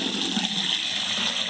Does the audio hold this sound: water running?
yes